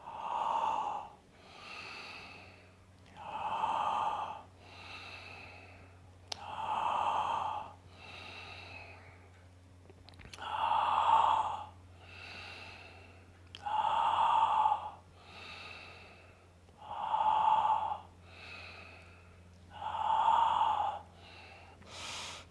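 A person doing an intense breathing exercise takes deep, forceful breaths in a steady rhythm, about a dozen strong inhale-exhale cycles, close and loud, with no talking.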